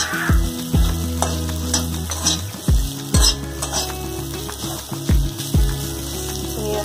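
Potatoes fry and sizzle in a pan while a flat paratha-style spatula scrapes and stirs them, giving repeated scraping strokes over a steady close sizzle, with no talking.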